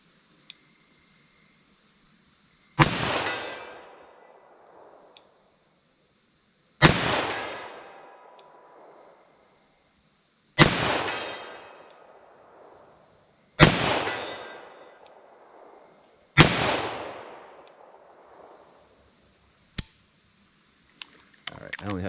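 Five loud, sharply spaced gunshots from a .38 Special revolver firing Winchester defense ammo at steel targets ring out alone, each crack trailing off into a decaying echo, followed by a few faint clicks.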